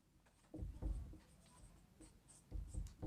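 Pen strokes scratching on paper while writing out the Pythagorean theorem formula for a class 9 maths lesson, several short bursts of scribbling with brief pauses between them, close and fairly quiet.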